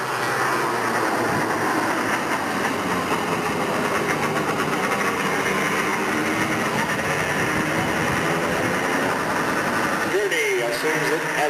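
Race car engines roaring at Delta Speedway, a steady loud drone of several cars circling the track throughout, with an announcer talking over the noise.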